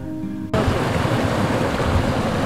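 A waterfall in the Pahalgam valley, Kashmir, rushing loudly as a broad steady roar that cuts in abruptly after a brief quieter moment.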